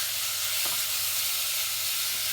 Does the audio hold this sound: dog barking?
no